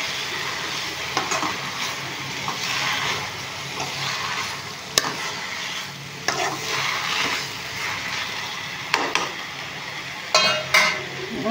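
Gongura leaves being stirred into pickle in a pan, with a steady soft sizzle and scraping of a utensil against the pan throughout, and a few sharper clinks along the way.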